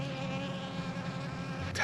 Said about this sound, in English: there's literally a bee right here.